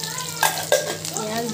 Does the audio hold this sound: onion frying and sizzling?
yes